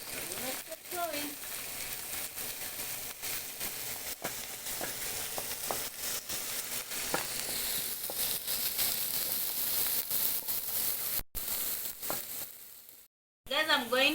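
Capsicums, coriander stems and garlic fry in a pan with a continuous loud sizzle and crackle, broken by stirring scrapes and a few brief gaps; a voice speaks over parts of it.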